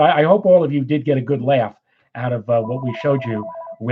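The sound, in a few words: phone ringing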